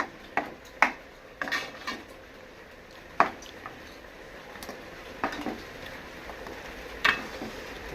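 A spoon scrapes and knocks against a pan while mango is stirred in ghee, sharp irregular clinks and taps over a low sizzle, close and fairly quiet, with no talking.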